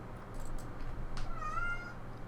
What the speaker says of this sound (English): there's a cat in here.